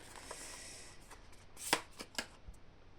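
Cards shuffled for a card reading, a quiet close riffle with a few sharp snaps near the end, heard alone.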